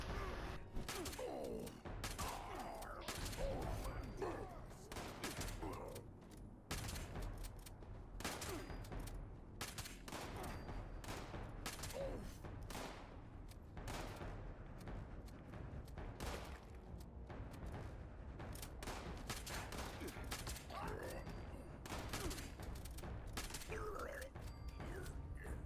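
Rapid pistol fire in a Fallout 76 fight against mutants, dense volleys of sharp shots cracking over a busy, noisy game mix with mechanical clicks and creaks, continuous for the whole stretch.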